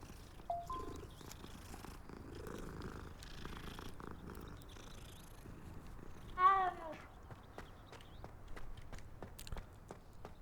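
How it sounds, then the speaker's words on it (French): A cat in the video game Hogwarts Legacy purrs softly and steadily beneath a quiet game ambience, with a brief meow-like chirp rising midway. "Oh, il y a un chat."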